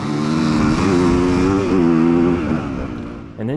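A dirt bike races off the start of a harescramble near Westpoint, Tennessee, its engine loud and close, revving hard in rising and falling pulls before briefly backing off and picking up again.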